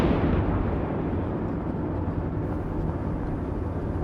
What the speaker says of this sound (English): Howitzers engaged.